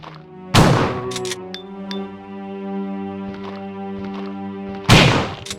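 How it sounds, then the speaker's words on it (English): Two booming shotgun blasts in the Resident Evil survival-horror game, spaced several seconds apart, with a tonal in-game musical drone and small clicks filling the gap between them. "Sir, I'm gonna need to blast your head off with this shotgun."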